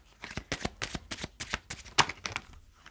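Tarot de Marseille cards riffle and slap in quick bursts of crisp papery shuffling, close and fairly loud, with one sharper snap near the end as cards are laid down; no voices.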